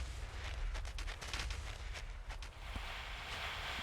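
Turrets firing in the video game Factorio with the Space Exploration mod: a quick, faint run of rapid gunshots over a steady low rumble, trailing off into background noise.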